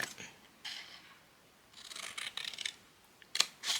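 Scissors snip through paper being cut for a homemade gift box, a few quiet separate cutting strokes with soft handling rustles between them.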